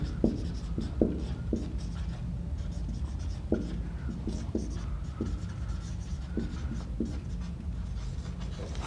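Chalk or marker writing a sentence on a board, with scattered short taps and scratchy strokes at an irregular pace over a constant low room hum.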